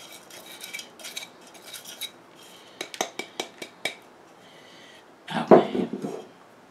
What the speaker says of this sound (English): you can hear the sand hitting the bottom of the bowl